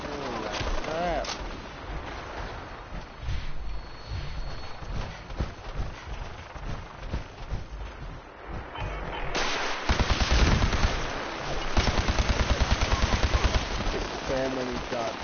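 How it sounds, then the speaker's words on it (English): Rapid bursts of gunfire from the video game Fallout 4, with dense volleys of shots and booming blasts crowding together, loud and continuous, and someone talking in between. "So many shots, dude."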